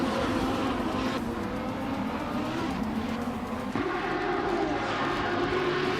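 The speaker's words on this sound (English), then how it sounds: "Wauk CB is driving a Lamborghini Huracan Super Trofeo" A Lamborghini Huracan Super Trofeo race car roars through a video game race, its engine a continuous loud, rising and falling drone with gear changes. Other cars run close by, and there is no talk.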